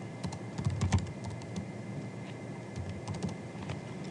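Steady key clicks from a computer keyboard while HTML notes are typed into an MS Word document, a continuous patter of close, moderately quiet taps with a few heavier strokes and no voices.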